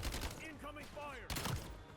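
Gunfire in the video game Call of Duty: Black Ops 7, a dense burst of rapid shots and booming impacts mixed with game sound effects, ending in a sharp louder blast.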